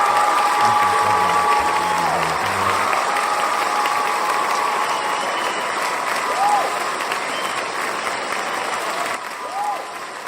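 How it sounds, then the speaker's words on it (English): Big standing ovation from a seminar audience, dense sustained clapping with some cheering, loud and close, slowly thinning toward the end. "It's a big standing round of applause for John Van Auken"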